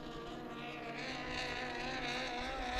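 Formula 2500 racing boats powered by Honda and Ford engines drone on the water, a steady distant engine roar swelling slightly as they run, with no voices.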